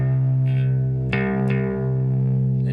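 A guitar's low C string in an alternate tuning, standard on the top four strings, rings out as a sustained tone with a couple of sharp pick or fret transients midway, close and steady without talk.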